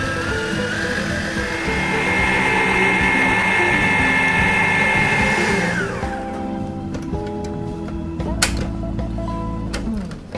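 A Waring food processor whipping cream cheese, butter and sugar roars with a steady high motor whine, then shifts in pitch and slows into a rattling, lower churn, loud and close with no voices.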